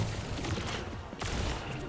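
Rapid, sustained weapon fire from the Overwatch hero Zarya's particle cannon during a match, dense and continuous throughout with a brief dip midway.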